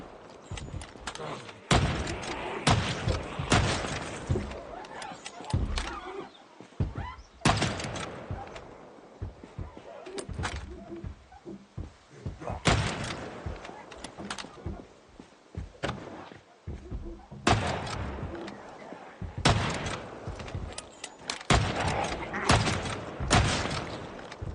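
Repeated gunfire in the zombie survival game Project Zomboid, heavy broadband bursts coming in irregular clusters with thuds and shuffling in between, loud and busy throughout, with some talking mixed in.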